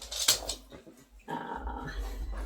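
A dog close by lets out a short growl followed by a low whimpering, grumbling sound, brief and fairly quiet with no one talking.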